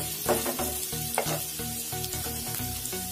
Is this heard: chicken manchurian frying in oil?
yes